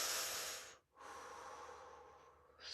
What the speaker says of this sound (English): breathing in through the mouth